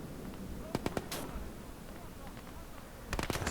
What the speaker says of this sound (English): The big old cannon still firing